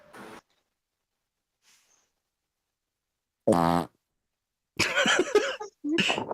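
A voice imitating a fart, one short buzzy, rippling blurt standing alone amid silence, followed by people talking.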